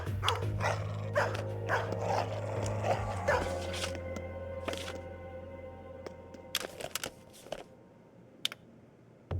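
Dog barking in the Dexter video game, several sharp barks spaced irregularly over a steady low hum and clicking background sounds.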